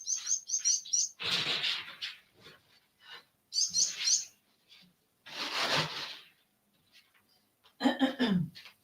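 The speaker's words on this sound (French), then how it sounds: "les oiseaux, les oiseaux," Small birds chirp in quick, bright bursts between stretches of breathy, rustling noise, with a short throaty sound near the end; the calls come and go in short clusters rather than as a continuous song.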